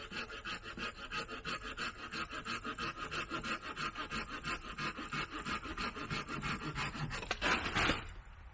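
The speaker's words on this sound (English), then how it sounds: "I gotta trim those two branches real quick, or those two ends" A hand saw cuts through the ends of tree branches being trimmed for a shelter, making steady, evenly spaced rasping strokes up close that end in a louder final pass.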